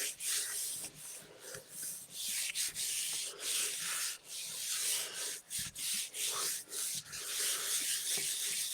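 Paper is rubbed by hand over a gel press printing plate in repeated soft, scratchy strokes with brief pauses between them, close and fairly quiet, with no talking.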